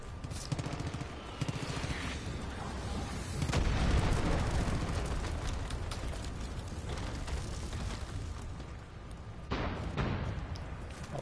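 Mortar fire pounds away in Far Cry 5, with sharp repeated blasts early on giving way to a dense, sustained roar of explosions and gunfire that swells and stays loud throughout, then another burst of impacts near the end.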